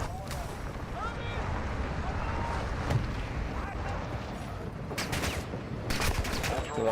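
Gunfire in the video game Call of Duty DMZ, a muffled ongoing firefight with bursts of rapid shots and louder cracks near the end, heard under a steady rumble of background noise.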